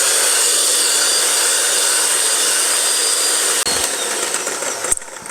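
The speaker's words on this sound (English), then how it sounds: "I've been doing this with my hand mixer for a couple of minutes" A hand mixer whirs steadily at high speed while beating egg whites to stiff peaks, a loud, continuous close-up drone that briefly cuts out and restarts near the end.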